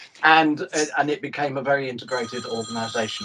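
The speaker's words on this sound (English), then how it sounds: "That's my phone ringing, sorry." A mobile phone rings during a conversation, its electronic ringtone showing as steady high tones in the back half of the clip beneath continuous close speech from someone talking about an organisation.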